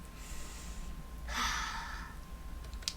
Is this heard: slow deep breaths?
yes